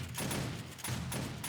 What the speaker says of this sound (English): I hear those shotguns firing